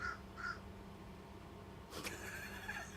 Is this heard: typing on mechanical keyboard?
no